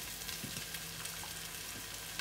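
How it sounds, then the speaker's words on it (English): Stock ladled into sizzling laksa paste in a pot, a constant bright frying sizzle with a few soft splashes and stirring scrapes, close and steady, with no talking. "let's ladle some stock in"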